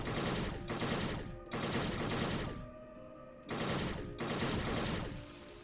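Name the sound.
gunfire from a gun in a video game (Fallout Equestria: Remains)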